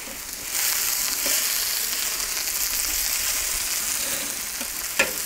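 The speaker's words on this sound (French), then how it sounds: "On les fait rissoler, mais pas rôtir." Diced onion with small pieces of green and red bell pepper sizzle steadily in a pan for paella, a dense, even frying hiss with a few faint clicks of stirring and no talking.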